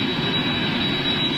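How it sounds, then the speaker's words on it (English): Steady jet roar from a 37-year-old Star Air Boeing 767 freighter, a continuous broadband rumble holding level throughout with no voices over it. "37-year-old Star Air 767"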